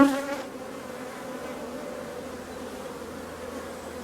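Honey bees buzz steadily across a hive frame during an inspection, a dense, continuous close-up hum with a brief louder swell at the start and no talking.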